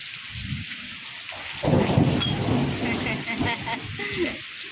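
Heavy rain pours down hard and steadily during a thunderstorm, a dense loud wash with low rumbles of thunder rolling beneath it.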